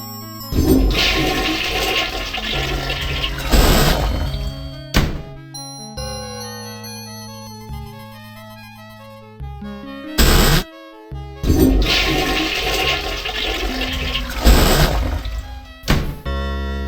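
A toilet flush from the video game I Have No Mouth, and I Must Scream: a loud rushing gush of water, repeated with a mechanical thunk, and an eerie tonal musical passage between the flushes.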